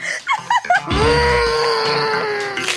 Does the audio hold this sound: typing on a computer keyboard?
no